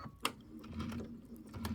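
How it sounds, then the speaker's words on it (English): A sewing machine stitches two quilting fabric pieces together, giving a steady, fairly quiet mechanical whir with light ticking and a sharper click near the start. "I'm going to go ahead and sew these two together first"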